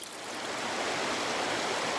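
Mountain stream in the backcountry rushing over rocks, a steady, close hiss of flowing water with no other sounds.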